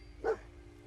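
A single short dog bark from the companion dog in Fallout 4, one mid-pitched woof, fairly close and alone against a quiet hum of game ambience.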